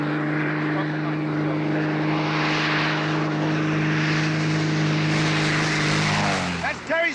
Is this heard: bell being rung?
no